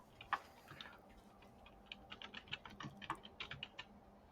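Quiet clicks of typing on a computer keyboard come in uneven bursts, with a sharper isolated tap near the start and a denser flurry of keystrokes toward the end.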